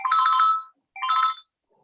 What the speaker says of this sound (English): Look, answer the phone first.